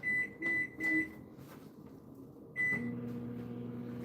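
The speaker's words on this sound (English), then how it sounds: "And just let that go in the microwave." A kitchen microwave oven beeps three times in quick succession, beeps once more after a pause, then settles into a steady low running hum, close by with no talking.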